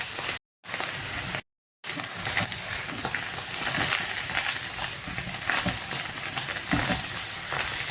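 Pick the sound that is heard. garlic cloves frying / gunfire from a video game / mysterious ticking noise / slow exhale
garlic cloves frying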